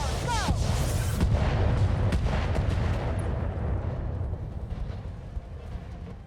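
Acid SRM missiles launch from a mech in a video game, a dense burst of loud booming blasts piled together at close range, then a rumbling roar that slowly fades, with someone speaking faintly underneath.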